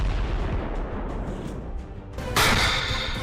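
Anti-tank missile fire at targets on the Israel–Lebanon border: a rumbling, noisy stretch followed by a sudden loud broadband blast or launch burst that lingers as a harsh roar.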